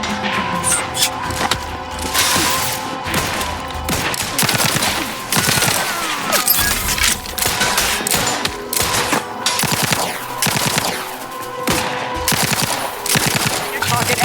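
Sustained gunfire in The Outer Worlds 2 video game, dense rapid bursts of automatic shots and impacts filling the whole stretch loudly and continuously.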